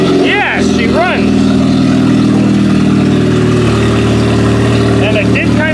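A freshly started engine in a G6 stock mini race car: loud, steady mid-pitched idle with a busy rumbling drone, heard up close and continuous, with people talking over it.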